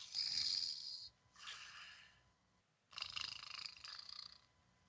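A voice imitates a goblin snoring as it sleeps on the job, giving two long, breathy rasping snores separated by a short pause, close and fairly quiet, with no other sounds around them.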